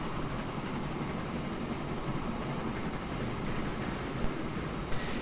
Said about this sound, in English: I'm going to sit here and watch my train go back and forth and back and forth